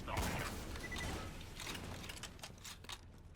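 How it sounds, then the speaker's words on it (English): The Buffalo bolt-action sniper rifle in Borderlands 2 fires and is cycled, a sharp shot followed by a few quick metallic clicks and clacks of the bolt, close and moderately loud. "It's fun to watch Zero do the bolt action every time I shoot it."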